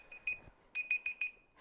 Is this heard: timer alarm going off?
yes